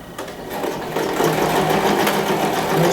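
A sewing machine backstitches a short half-centimetre seam on a small zippered pouch, its motor revving up and running loud and close for a few seconds.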